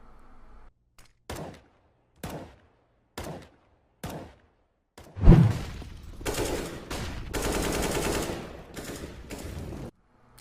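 Gunfire in a PUBG or CS:GO match: several sharp, evenly spaced single shots ring out, followed by a loud impact and a dense sustained burst of rapid fire, close and punchy.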